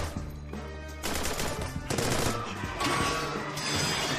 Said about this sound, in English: So many ricocheting bullets all over the place